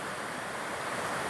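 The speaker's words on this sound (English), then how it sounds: "river, big stream, running alongside" Small river stream running alongside a forest cycling path in the Czech Republic, a steady broadband rush of flowing water mixed with wind noise on the microphone, continuous and fairly loud.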